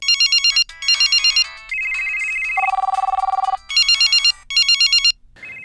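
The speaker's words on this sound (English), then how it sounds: "broken only by the ringing of cell phones in the pockets of victims" Cell phones ring in the pockets of victims, loud electronic ringtones overlapping in rapid chirping bursts and a steadier warbling tone, repeating insistently with no voices.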